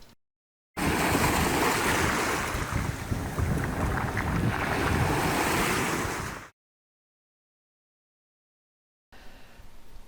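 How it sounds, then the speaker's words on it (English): Ocean waves roll and wash onto a beach at high tide as wind buffets the microphone, a loud broadband surge lasting several seconds before cutting out, then returning more faintly. "as you can see, the waves are actually starting to roll a bit more"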